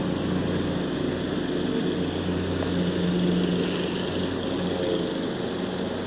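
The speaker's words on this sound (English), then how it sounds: "Sorry, the neighbors are mowing." A neighbor's lawn mower runs steadily outdoors at a moderate distance, its continuous engine drone holding level without a break and no voices over it.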